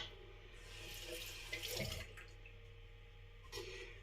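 Running water from a sink tap with splashing as a face is wet before shaving, a steady close wash that swells in the middle and again near the end, no talking.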